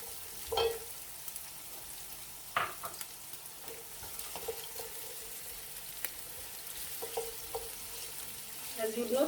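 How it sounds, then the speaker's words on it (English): An onion frying in a little oil in a pan for a fish coconut stew: a quiet, steady sizzle broken by occasional stirring knocks and scrapes, with no talk. "So we'll be cooking our onion for some few minutes"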